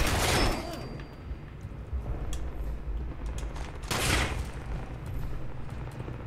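Rapid bursts of gunfire from the video game Fallout 76, loud close shots with a sharp crack early and another heavy burst midway, over a steady rumbling game backdrop.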